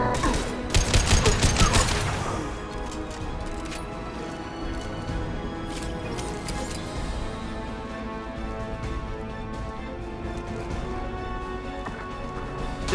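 A short, dense fusillade of gunfire from Mass Effect 2 rattles out in the first couple of seconds, then gives way to a steady combat ambience with faint scattered sounds.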